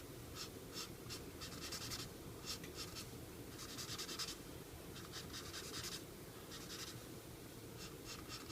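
Artist Mind marker drawing a frame line around a picture on paper, a close, steady scratchy squeak in repeated strokes with short gaps between them, with no talking.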